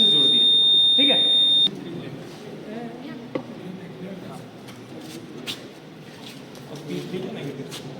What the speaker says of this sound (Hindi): अब इसको जैसे ही हम लोग ऑन करेंगे तो लाइट भी जल गया और हमारा बजर भी ऑन हो गया